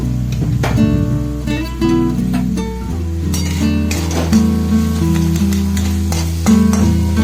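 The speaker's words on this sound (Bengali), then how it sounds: "খুব ভালো করে কিন্তু কষিয়ে নিতে হবে।" Ghugni masala of turmeric, cumin and coriander powder being stirred and sautéed in a pan, a steady close sizzle with scraping spoon strokes and faint clinks throughout.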